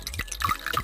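Red liquid being poured in the video game Zero Escape 999: a short sequence of soft watery drips and splashes, several brief plops in quick succession, fairly quiet and isolated.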